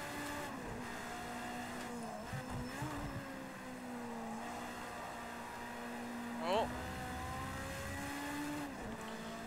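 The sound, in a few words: race car engine and tires in a racing video game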